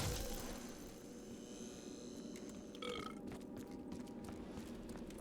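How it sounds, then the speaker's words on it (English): A cartoonish burp within a video game perk jingle, a single gurgling belch near the middle over a faint, busy musical background at low level. "I just love the fact that they actually put the burp on there too."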